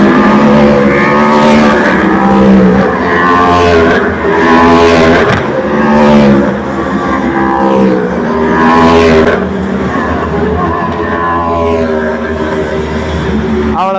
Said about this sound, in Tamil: இப்போ நீங்கள் பார்க்குற இந்த ஒரு கார் தான் ஃபார்முலா 4க்கான கார். பாருங்க, வருது பாருங்க.